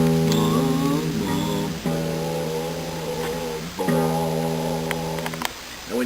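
Acoustic guitar being tuned, its low E string plucked several times, each note ringing out clearly and decaying alone before the next pluck.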